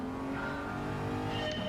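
Audi TT engine in Gran Turismo 7, a short burst of strong revving with a rising harmonic whine as the car accelerates, close and loud with faint tire noise and no talk.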